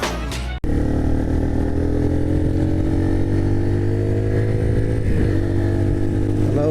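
A motorcycle engine drones steadily on a ride, loud and close with a constant rumbling tone and a slight shift in pitch near the end, after a brief cut at the start.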